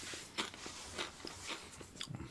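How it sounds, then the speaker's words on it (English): Quiet munching from someone eating a late night snack, a handful of soft crunchy bites spaced irregularly over low background hiss, close to the microphone. "I have to excuse for the munching noises."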